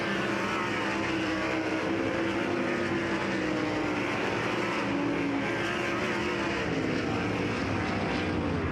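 Dirt race cars on a final hot lap at Lucas Oil Speedway, a dense, continuous engine roar that stays loud and steady, with several cars blending together and no clear gaps.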